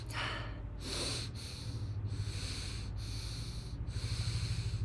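A person demonstrates shallow breathing with the belly sucked in, making quick rhythmic sniffing inhales and breathy exhales, close and fairly quiet, repeating about six times.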